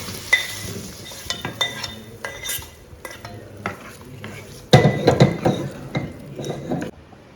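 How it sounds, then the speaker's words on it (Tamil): Sautéed vegetables tip into a pot of sambar and a spoon stirs them, giving close scraping and clinking against the metal pot in uneven bursts. "இப்போ வதக்கின காயெல்லாம் இதில் கொட்டிடலாம்."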